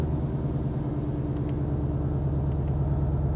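A 2020 Ford Mustang Shelby GT500 idles in quiet drive mode with a steady, low, even rumble that sounds close, holds the same level throughout and has no voices over it.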